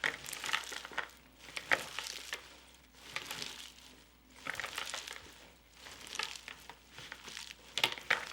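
Hands massaging oil into chopped kale leaves for a salad, producing soft crinkling, squishing rustles in repeated bursts, close and moderately quiet, with no talking.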